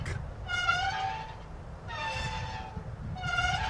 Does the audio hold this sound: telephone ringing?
no